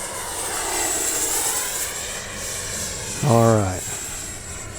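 Arrows F-15 RC jet with 64mm twin electric ducted fans flying past, a steady high whine and whoosh that rises and falls in the distance, with someone speaking briefly near the end.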